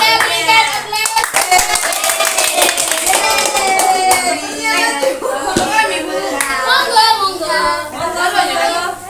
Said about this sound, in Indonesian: Kita berikan aplaus.